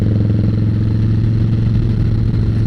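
A 2016 Harley-Davidson Softail Slim S motorcycle engine idling close by, a loud, steady, low throbbing rumble with an even lumpy pulse, alone and without talk.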